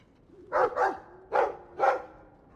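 Dog in Dragon Age II barking four times, moderately close, in two quick pairs of short, full barks with brief gaps and no talk.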